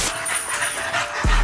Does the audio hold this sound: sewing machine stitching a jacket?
no